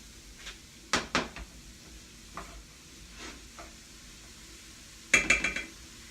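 Cauliflower rice fries in a pan over medium-high heat, a soft steady sizzle broken by a few scattered stirring scrapes and clinks, louder bursts near the start and toward the end.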